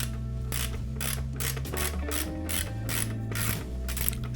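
Classic ratchet wrench clicking in quick bursts of rapid pawl ticks while turning a part on a 2005 Look bicycle, loud and close with no talk.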